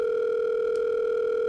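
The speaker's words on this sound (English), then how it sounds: "the line finally rings" A steady unbroken telephone tone hums on the line, a constant pure electronic pitch held evenly at moderate loudness with no pauses.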